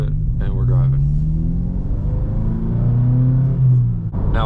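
A manual Subaru WRX pulls away in first gear, its engine giving a steady low rumble that rises slightly as the clutch engages, heard up close from inside the car.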